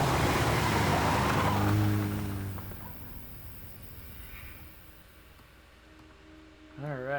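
A stolen car in the Road 96 video game drives off with engine hum and tire skid, loud at first and then easing into a steady, quieter drone, with a voice briefly heard near the end.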